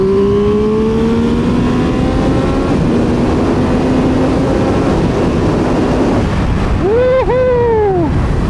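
A 2022 Triumph Speed Triple 1200RR motorcycle pulls hard under throttle, its engine note rising steadily over loud rushing wind, then a quick revving swoop near the end.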